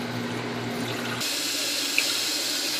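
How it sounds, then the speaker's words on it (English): Water gushes steadily into a Panda portable washing machine filling for the rinse cycle, a continuous loud rushing flow with a hum that cuts out partway through. "I'm filling up for the rinse process"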